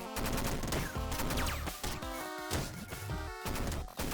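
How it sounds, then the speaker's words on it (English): Rapid machine gun fire from the video game Downwell, dense bursts of gunfire and crashing hits running steadily with brief gaps, loud and layered over the game's busy electronic music. "Machine gun's great too though"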